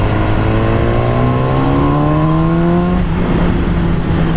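A BMW S1000R motorcycle engine accelerates hard with a loud, steadily rising whine, then drops briefly at a gear change around the three-second mark before pulling again, close and with no talking.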